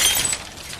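A stylish glass coffee table shattering, a bright burst of breaking glass that peaks at once and then fades into a brief scatter of tinkling shards.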